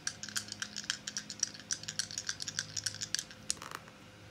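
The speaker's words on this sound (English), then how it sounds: "So let me roll the dice for you once again." Dice rolled and shaken, a quick run of small sharp clicks and rattles spread across a few seconds, close and fairly quiet with no talking.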